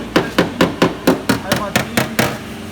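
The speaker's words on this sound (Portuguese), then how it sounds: "aí a gente pega um martelo" A hammer taps a car body panel during simple bodywork repair, knocking down small high spots: nine sharp, evenly spaced metallic knocks, close and fairly loud, with no talking.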